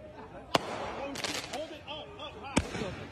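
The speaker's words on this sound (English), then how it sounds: "They're trying to light the mall on fire with fireworks" Fireworks set off at a shopping mall during looting, two sharp loud bangs about two seconds apart amid crackling, with people's voices in the background.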